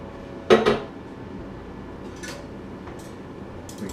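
Clams and linguine being mixed in a pan, with two close clatters of metal against the pan and shells near the start, then quieter scraping and clinks.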